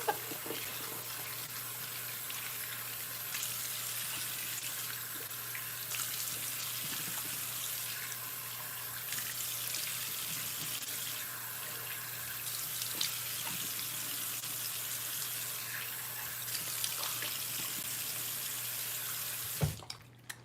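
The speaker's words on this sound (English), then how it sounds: "And then I rinse as much as I can with water, cupping my hands" Water pours steadily from a bathroom tap into a sink while a face is rinsed with cupped hands, a continuous close hiss with faint splashes throughout and a sharper clunk near the end.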